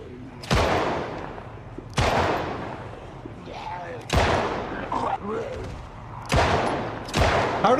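Gunshots fired at zombies in the video game Project Zomboid ring out as sharp, loud, single cracks, five reports spaced roughly a second or two apart, each trailing off with a short echo.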